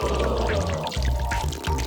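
Water pours steadily into a water balloon, a continuous gurgling, splashing flow with irregular low bubbling pulses, close and loud without speech.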